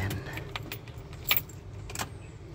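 Car ignition keys jangling in a vehicle during a GPS installation, a few close metallic clinks and rattles over a low background hum.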